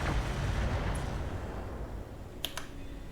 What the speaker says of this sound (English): And they're shooting our friends